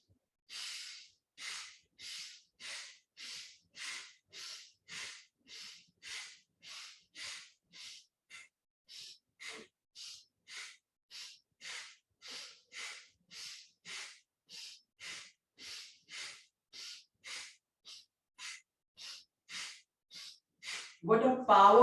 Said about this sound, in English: let us start with Bhastrika, the bellows breath